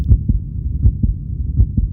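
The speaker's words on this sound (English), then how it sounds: "heartbeat." A steady, deep heartbeat pulses in close, even double thumps, loud and alone with no other sound.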